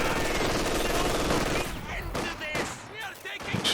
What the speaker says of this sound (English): I'll try to get away with his machine gun now.